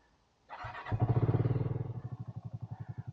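A small motorcycle engine fires up and settles into a loud, close, steady chugging beat that slowly eases in pace, with no voices.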